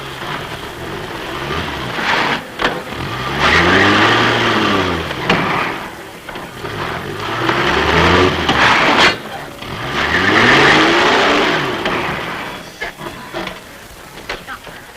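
An old car in a Tamil comedy film scene drives back and forth, its engine swelling and falling in three long revving waves, with people talking in between.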